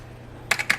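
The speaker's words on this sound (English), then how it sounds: "The keyboard's actually kind of nice. I mean, it's clicky, pretty durable." A clicky original keyboard of an old computer is typed on, a short burst of three or four crisp, close keystrokes after a quiet moment.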